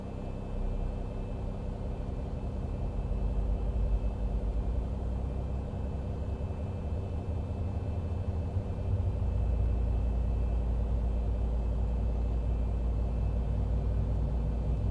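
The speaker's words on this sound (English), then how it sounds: "Starting engine 2" Engine 2 of a Boeing 737 spooling up in a flight simulator, a steady low rumbling whine that builds slightly and holds, with a faint high tone running throughout.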